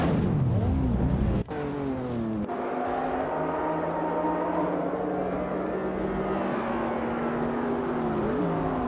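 Race cars in a racing video game, including a 2008 Pontiac G8 GXP, with a steady engine drone whose pitch climbs through gear shifts, holding loud and continuous.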